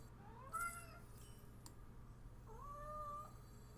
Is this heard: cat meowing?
yes